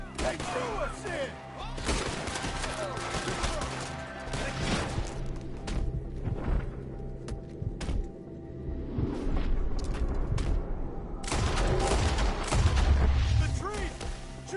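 Rapid gunfire from shootouts in Red Dead Redemption 2, with dense overlapping shots, booms and ricochets, loud and close throughout, growing heavier near the end, while voices shout over the fighting.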